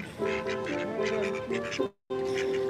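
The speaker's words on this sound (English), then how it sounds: "the ducks want some, but we won't feed them" Ducks quacking close by in a string of loud, raspy calls, several in a row with short gaps, a sudden silent cut, then more quacking resuming.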